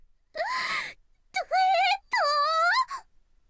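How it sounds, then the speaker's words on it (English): A voice, Makoto in the Chrono Clock visual novel, lets out three drawn-out, wailing vocal cries of disbelief, the first a long moan and the next two rising and falling, clear and close with brief pauses between. "Makoto screamed in disbelief"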